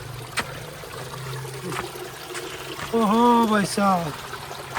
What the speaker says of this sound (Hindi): ये पानी की किलकारियाँ सुनो पहले तो आप